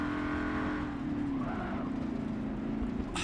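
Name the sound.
race car accelerating in video game Forza Motorsport 7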